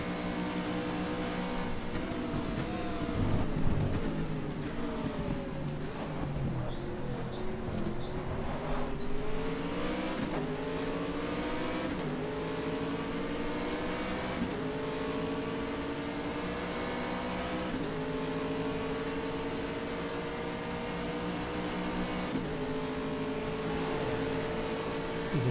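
A race car engine drones steadily through a night stint in the GTR2 sim on the road to Le Mans, its pitch climbing and falling in long sweeps through the gears, loud and continuous with no talk.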